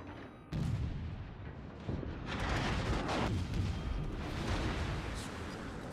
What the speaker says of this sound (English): the La Galissonière is shooting at us now